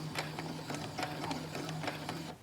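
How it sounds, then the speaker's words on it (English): Sewing machine running a short burst of stitches, the needle thumping in a quick, steady rhythm for a couple of seconds before stopping; close and clear with no talking. "I'm going to do a couple of stitches backward"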